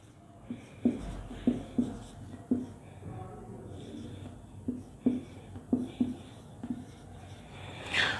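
A pen writes a multiplication table by hand in a series of short, scratchy strokes on paper, irregularly spaced and close, with soft murmured voice sounds underneath.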